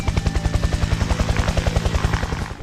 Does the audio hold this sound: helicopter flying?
yes